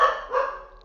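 A person's voice imitates a barking goo creature in two short rough yelps, the second a bit longer and fading, with no other sound.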